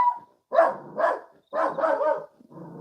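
A puppy barks excitedly in short bursts of two or three yaps, close and loud, with brief pauses between them and a softer whimpering yip at the end.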